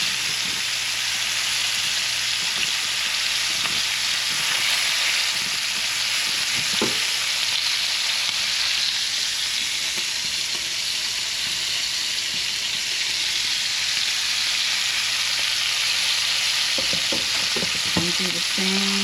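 Lamb chops sizzle steadily in a frying pan, a loud, constant hiss that runs unbroken for the whole stretch, with a few soft knocks and scrapes near the end as they are handled.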